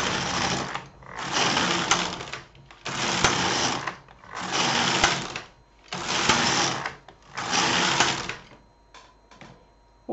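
A knitting machine carriage is pushed back and forth across six rows, producing loud, broad rushing sweeps. There are six regular passes, each about a second long, separated by short gaps.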